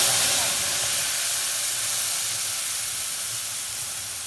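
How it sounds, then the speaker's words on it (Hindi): Masala frying slowly in oil over a low flame, a steady soft sizzle and hiss that holds at an even level throughout, with no other sounds on top. "जहन तक कि तेल छोड़ देते मसाला में तखन तक मसाला के हम भूजबै कम आँच पर।"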